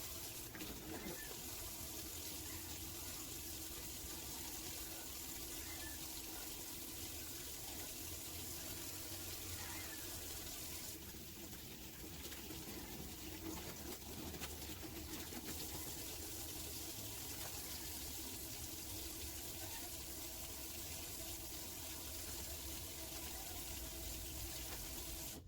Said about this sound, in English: I will just wash my hands